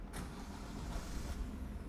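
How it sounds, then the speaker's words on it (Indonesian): A Wuling Formo Max pickup's 1500 cc Convero engine idles smoothly and steadily, heard from close by with a door open. A brief mechanical whir sounds at the start and there is no talking. "mesin 1500 cc-nya cukup halus ya, mesinnya Convero"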